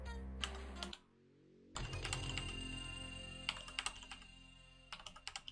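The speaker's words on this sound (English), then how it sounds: "I'm like typing it multiple times, it's not doing anything." Quick runs of keystrokes on a computer keyboard, pausing briefly before resuming with faster clustered taps and a steady low hum underneath, while playing Mortal Kombat on PC DOS.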